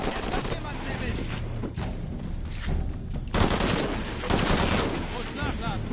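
Loud, rapid automatic gunfire from Shadow of the Tomb Raider rattles in dense bursts with brief gaps, dominating the scene with sharp cracks close by.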